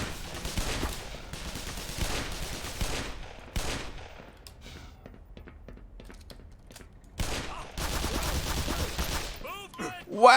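Rapid bursts of gunfire in Black Mesa rattle out in dense volleys, easing into sparse scattered shots before a heavy barrage returns, with a voice faintly underneath.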